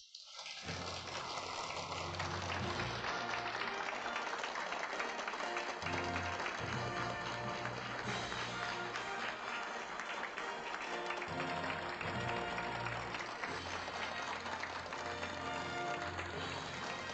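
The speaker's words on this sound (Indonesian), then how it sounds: "Mari kita berikan tepuk tangan meriah untuk tokoh utama konferensi pers hari ini." Applause at a press conference as a woman takes the stage: a dense, continuous wash of clapping from a crowd that starts abruptly and holds steady for the full stretch.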